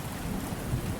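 Steady rain falls with a low thunder rumble underneath, a dense continuous hiss over a deep murmur, moderately loud and without voices.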